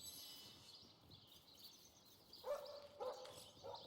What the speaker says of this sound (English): Woof woof, it seems like he's eager to tell you so.